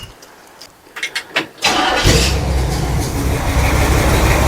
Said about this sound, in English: It's probably going to idle a little high now because I idled it up, but get it fired up